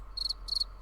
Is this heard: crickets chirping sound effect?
yes